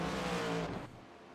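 Race cars roaring past on a straightaway in a racing game, a dense, loud engine drone that fades and drops away after about a second, with no talk over it.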